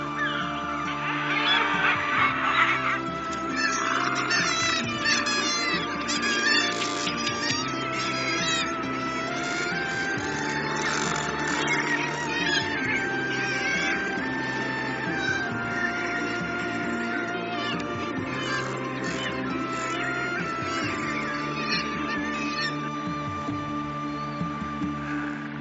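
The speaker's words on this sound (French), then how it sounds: "ici c'est d'abord le domaine des pingouins tordas, guillemots de Troil, mouettes tridactyles et fous de bassin" A crowded Shetland seabird cliff colony of razorbills, guillemots, kittiwakes and gannets keeps up a dense, continuous chorus of harsh cries, growls and wailing calls, loud and layered throughout with no talking.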